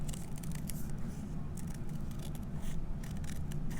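Scissors snip through paper along a line during a first-grade Eric Carle butterfly craft, giving a steady run of quiet crisp cuts over a low room hum.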